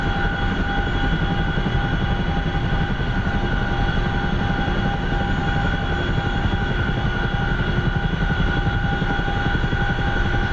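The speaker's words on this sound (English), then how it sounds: "let's go land and see if I can do an actual landing in a CH-47 here" A CH-47 Chinook helicopter in the DCS flight simulator over the Afghanistan map, its rotor and engine producing a loud, steady, continuous drone with a constant whine and no voices.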